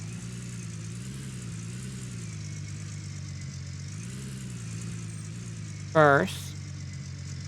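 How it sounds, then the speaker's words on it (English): Pickup truck engine in the video game Gold Rush idling with a steady low hum and a slight swell midway, under a voice, then a brief bright chiming interface blip near the end. "hop into the pick 'em up. Start the engine."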